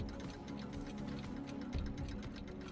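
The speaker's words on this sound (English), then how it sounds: "just constantly surrounded by ticking clocks" Several clocks tick steadily in a room in Deus Ex Mankind Divided, a quiet, overlapping clatter of regular ticks heard alone with no talk.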